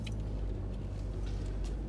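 A car rolls slowly down a short road toward a parking spot near a tennis court, its low engine hum and tyre rumble heard from inside the cabin, steady and moderately loud with faint higher rattles.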